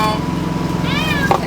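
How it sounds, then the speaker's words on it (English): Cats meow for food, one clear drawn-out meow near the end after a faint call at the start, over a low steady hum. "Watch, the cats are gonna go crazy because they think I'm getting their food"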